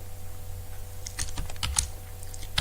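Code is typed on a computer keyboard in quick, irregular bursts of close, crisp key clicks over a low hum, with no talk.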